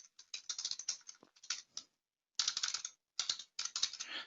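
Someone types an email reply on a computer keyboard in a quick run of clicky keystrokes, broken by two brief pauses before the tapping resumes.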